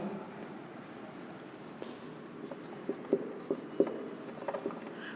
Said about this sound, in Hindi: मैं लिख देता हूँ, इसी के नीचे लिख देता हूँ